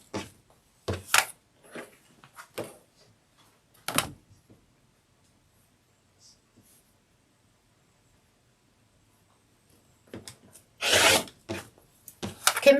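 Fabric for a sunflower wall hanging is trimmed along a drawn line, giving scattered short rasping cuts with a long quiet pause between bursts.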